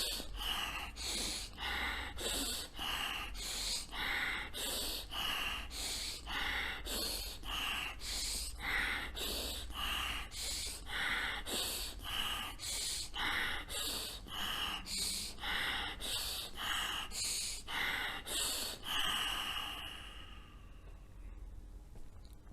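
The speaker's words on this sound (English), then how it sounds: "Alternative nasal breathing, anulom vilom, has proven health benefits" Alternate nostril breathing, the anulom vilom exercise: a steady, even series of about twenty forceful nasal inhales and exhales, close and rhythmic, ending in a softer, quieter breath.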